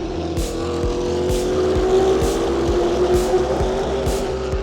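Formula One cars at the Mexico Grand Prix roar past one after another heading into the stadium section, a loud continuous engine drone with rhythmic repeated pulses as each car sweeps by, no talk.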